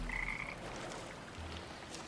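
Cartoonish frogs with big ears croak in the Arknights Endfield game world, a short croak near the start followed by a low, softer one, set against a steady ambient game backdrop.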